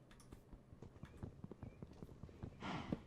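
A cow in the Minecraft video game gives quick, hoof-like clopping steps in a busy rhythm, ending in a brief louder lowing burst, with no talking.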